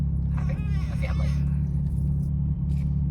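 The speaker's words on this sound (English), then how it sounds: "The car in front of me is really loud" A loud car just ahead on the road produces a steady, heavy low engine rumble, heard from inside a vehicle, with a voice speaking briefly over it near the start.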